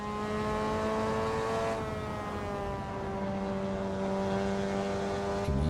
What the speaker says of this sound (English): Oh, I'm drifting.